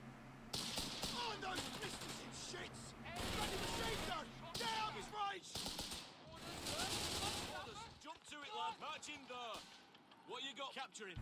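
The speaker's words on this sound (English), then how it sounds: "Bloody machine gun!" Machine-gun fire in a war video game, repeated rattling bursts mixed with shouted voices and battlefield noise.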